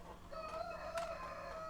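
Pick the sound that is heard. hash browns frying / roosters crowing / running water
roosters crowing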